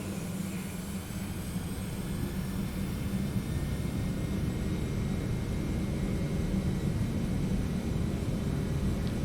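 Twin rear-mounted engines of a Boeing 717-200 in a flight simulator build a steady, continuous roar during the takeoff thrust set, a broad even rumble that holds level throughout with no speech.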